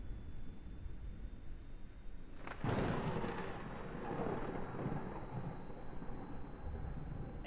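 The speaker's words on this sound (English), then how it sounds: "Thunderstorm." A thunderstorm in Kerbal Space Program, with a sudden thunder crack about a third of the way in, then a long rumbling roll over steady rain-like noise.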